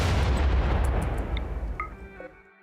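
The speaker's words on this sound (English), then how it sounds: "Jesus, that was a big explosion." An unstable power cell blowing up in the video game Rimworld: a single loud, deep explosion with a broad crackling burst that fades out over a couple of seconds, ending with short game chimes.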